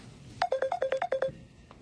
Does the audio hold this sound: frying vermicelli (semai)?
no